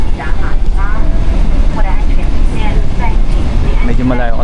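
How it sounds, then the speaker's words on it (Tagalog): Heavy, steady roar of an airliner landing in Manila, heard from inside the cabin, a loud broadband rumble filling the whole stretch with some faint voices or cabin sounds drifting over it. "Pero palanding na po yung eroplano"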